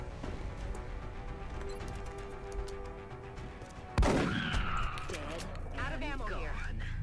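Gunfire from soldiers in the video game XCOM Enemy Within: a sudden loud burst of shots and an impact boom, followed by game effects, over a steady background of game sound and talk.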